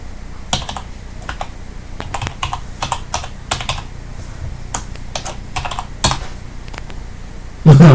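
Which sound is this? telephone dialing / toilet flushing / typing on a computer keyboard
typing on a computer keyboard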